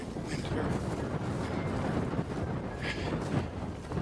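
Strong wind of about 20 to 25 mph out in open Montana hunting country, a continuous loud buffeting roar of gusts pounding the microphone for the whole stretch, with no talking.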